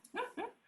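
Two short, close dog vocalizations, a pair of quick whiny yips or barks in rapid succession, heard alone against a quiet room.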